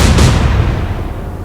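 A warship's gun salvo fires in the Atlantic Fleet naval battle game, a single loud, deep boom that hits at once and then rumbles away into a fading tail.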